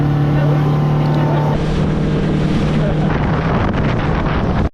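A motorboat engine roars at full throttle with heavy wind buffeting the microphone, loud and continuous before cutting off abruptly, while people on board talk over it.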